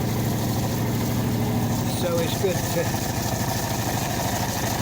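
A boat's engine idles after two months unused, a steady low rhythmic throb running throughout while someone talks over it.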